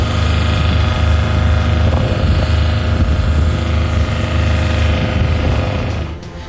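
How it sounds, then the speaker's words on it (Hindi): A Shenyang J-15T fighter jet at the Zhuhai air show gives a loud, steady engine roar with a droning hum that holds for several seconds, then starts to fade near the end. "चीन ने जुहाई में हुए एयर शो में अपने नए फाइटर जेट शेनयांग J-15T की झलक दुनिया को दिखाई।"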